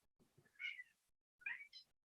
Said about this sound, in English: what is this cat's problem?